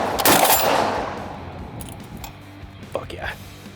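A Barrett M82A2 .50 BMG rifle fired from the shoulder gives one loud, sharp blast near the start that rings out and decays, followed by faint clicks and handling noise.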